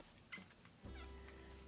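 A house cat named Kitty Loaf gives a short, faint meow, followed by a longer, drawn-out whining cry, close by and alone without talk.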